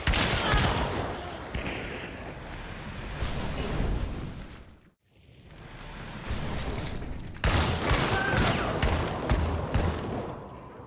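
Centennial sniper rifle fire in Hunt: Showdown: loud, booming shots with echoing tails crowd the opening seconds, then a brief near-silent gap, followed by more heavy reports and rumbling echoes, with a sharp strong blast partway through the second half.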